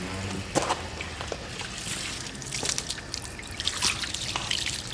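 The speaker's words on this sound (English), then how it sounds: "So that's gonna sheet your water off very, very good." Water trickles and drips off a freshly polished American Force wheel, a steady soft dribble broken by scattered sharper drops, close by with no talking.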